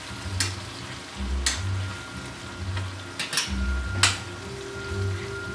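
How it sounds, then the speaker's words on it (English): Thin slices of cheesesteak beef sizzle steadily on a hot flat-top griddle just after flipping, a close crackling hiss with occasional scraping taps from a spatula and low rumbling underneath. "that's nice and brown, so I'm going to go ahead and flip these on over"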